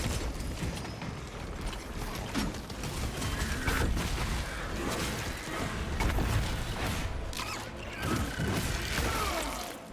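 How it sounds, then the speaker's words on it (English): Rifle magazine being swapped in a shooter video game, a continuous clatter of mechanical clicks and ratcheting over busy game noise. "Changing magazine."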